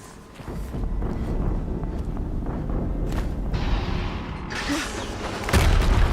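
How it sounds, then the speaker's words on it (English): A video-game explosion in Horizon Zero Dawn, heard as a loud, sustained low rumble lasting several seconds, with a fresh heavy boom swelling at the very end. "Another explosion."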